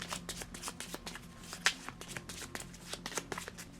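A deck of cards for the Transformers deck-building game War on Cybertron is shuffled by hand, with a run of soft, rapid riffling flutters and taps, close and quiet.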